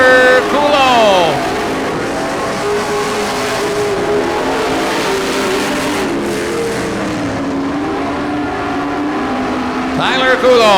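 Race cars in a Grand National heat race roar around the track, engines loud and close with pitch sweeping up and down as cars pass, under continuous announcer commentary.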